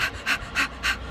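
A person imitates quick, shallow panting breaths, four rapid, breathy huffs in an even rhythm, close and alone.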